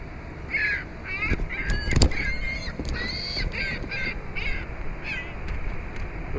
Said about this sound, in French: Je pense que la mouette, elle veut ma pomme.